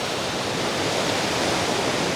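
Steady broadband rush of ocean waves at a beach at sunrise, a continuous dense wash of surf with no distinct breaks, filling the whole moment without voices.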